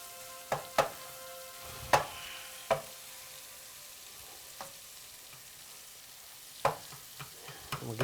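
Steak meat and onions fry in a hot pan with a soft, steady sizzle, broken by several sharp clinks and scrapes of a utensil against the pan, some close together, with no talking.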